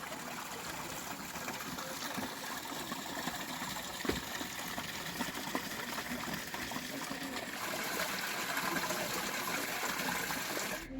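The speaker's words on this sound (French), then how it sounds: "en remontant un petit peu la rivière, on a fini par trouver un petit peu d'eau" A small trickle of river water runs steadily and close by, a continuous soft babble with no pauses.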